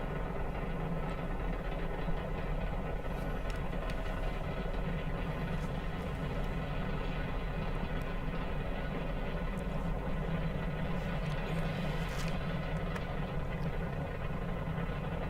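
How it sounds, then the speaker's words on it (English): Five F1 rocket engines firing in Kerbal Space Program, a steady, dense, unbroken roar that holds at constant loudness throughout, with no voices. "Those 5 F1 engines powering it up."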